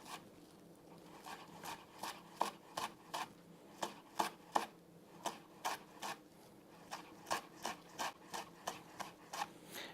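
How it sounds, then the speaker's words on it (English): A knife rocks through a tight roll of flat-leaf parsley on a chopping board, making a steady run of about twenty crisp, close taps at an even rhythm, with no talking. "keeping the knife on the board, we run the knife through once"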